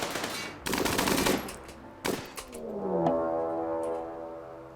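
Bursts of rapid automatic gunfire in a video game, two dense volleys close together, followed by a low droning tone that swells and fades.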